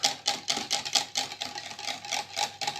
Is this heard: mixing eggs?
yes